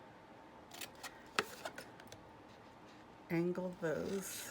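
Scissors snip paper card pieces for a stamping craft project, a few faint, sparse cuts and rustles heard up close, followed by someone talking quietly.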